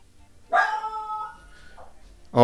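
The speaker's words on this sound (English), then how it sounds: "the dog's barking" A pet dog indoors lets out a single sharp bark that trails into a whine, followed by a second bark starting at the end, fairly close in a quiet room.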